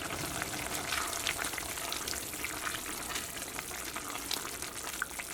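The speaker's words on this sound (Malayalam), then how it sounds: "ഒരു മീഡിയം ഫ്ലെയിമിൽ 10 മിനിറ്റ് മൂടി വെച്ചിട്ട് കറി നന്നായിട്ട് തിളപ്പിച്ചിട്ടുണ്ടായിരുന്നു" A soya chunk curry bubbles in a covered pan over a medium flame, a steady dense hiss and gurgle that stays even and close throughout with no voices.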